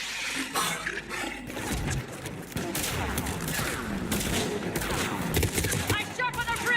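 Rapid gunfire fills a Mass Effect 3 firefight on Tuchanka, with dense overlapping bursts and sharp cracks, loud and sustained, and voices are partly buried in the mix.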